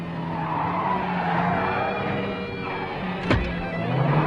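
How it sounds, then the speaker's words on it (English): A Ford Country Squire station wagon skids around a block in reverse in a 1986 movie scene, tires squealing over engine noise, with a sharp crash-like burst near the end. "a Ford Country Squire ripping around the block in"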